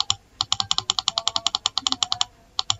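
Numbers being typed on a computer keyboard: a quick, uneven run of crisp, close key clicks, about twenty strokes in a burst, a short pause, then a few more taps.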